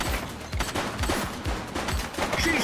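Gunfire crackles in the video game The Precinct, a rapid run of close shots over busy background noise.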